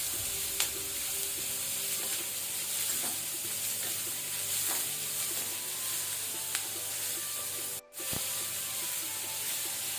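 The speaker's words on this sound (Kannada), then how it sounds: "ಇದನ್ನು ನಾವೀಗ ಸ್ವಲ್ಪ ಫ್ರೈ ಮಾಡ್ಕೊಳ್ಳೋಣ." Onion and curry leaves sizzle continuously in a pan while being stirred, a close steady frying hiss with scraping stir strokes and a brief dropout near the end.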